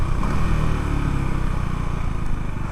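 A KTM Duke 390 motorcycle engine held at high revs under launch control, a loud, steady, close rumble with slight fluctuations throughout and no voices.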